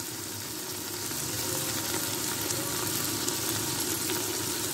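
Aloo keema with fresh coriander frying in a pan over a low flame, giving a steady, close, even sizzle that holds throughout without any talk.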